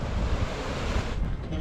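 Waterfalls pour from a mountain lake near Bamiyan, Afghanistan, in a constant roaring rush of water mixed with gusting wind against the microphone, steady and fairly close.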